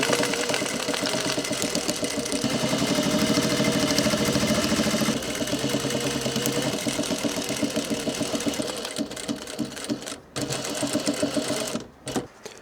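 A sewing machine runs steadily, stitching a decorative top stitch onto a workwear yard jacket. The motor hums loud and even for most of the run, then slows into short stop-start bursts with brief pauses near the end.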